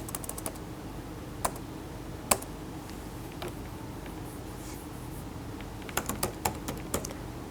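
Keys clatter on a computer keyboard as Java thread code is typed, the strokes sparse and scattered, then bunching into a quicker flurry near the end, with no voices.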